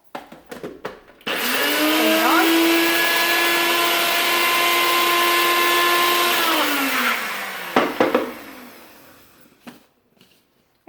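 A NutriBullet blender grinds dry-roasted spice seeds in a loud, steady whir that runs about six seconds, its pitch dropping slightly as it winds down, with a few clicks and knocks of the container before and after.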